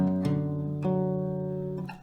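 An acoustic guitar note is plucked on the second fret of the low E string and left to ring, then plucked again twice more at a steady, unhurried pace, each sustained tone clear and close.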